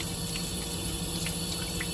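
Cold tap water runs steadily over an agarose flask as it is swirled to cool, a constant hissing rush of water with no talking.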